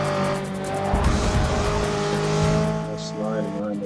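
Tires skid and squeal in Forza Motorsport 6 as a car drifts under braking around a lot, engine droning with a steady tonal whine and a burst of tire noise mid-clip, with a voice talking over it.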